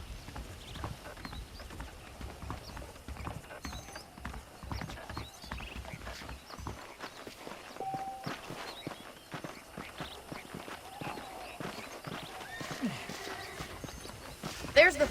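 Horse hooves clip-clop in Red Dead Redemption in a steady walking rhythm. The hoofbeats stay moderately close and are joined by a whinny and talking voices.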